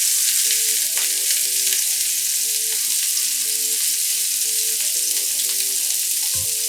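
Lobster sizzles steadily in a hot oiled pan for pad thai, a constant bright crackle with light scraping of stirring throughout and a brief clatter near the end.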